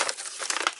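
Pretty gift wrapping paper crinkling as it is carefully peeled off new books, a brief close rustle with no voices.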